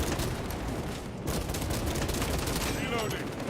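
Rapid, dense gunfire rattles continuously in the Space Marine 2 video game, a loud, crowded burst of shots with a short metallic chirp near the end.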